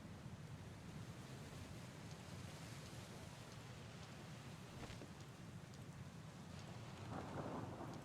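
Thunderstorm in a video game: a steady wash of rain and broad rumbling noise runs throughout, with a couple of brief crackling strikes in the middle and a louder swell of thunder near the end.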